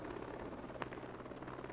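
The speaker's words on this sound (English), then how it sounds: "Canadian helicopters" Canadian military helicopters in an Afghanistan combat video game, a steady broadband rotor drone filling the scene at low volume with a brief sharp transient partway through.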